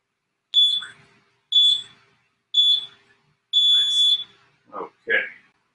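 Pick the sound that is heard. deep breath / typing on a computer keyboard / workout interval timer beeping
workout interval timer beeping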